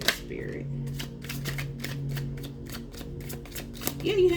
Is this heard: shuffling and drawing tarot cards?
yes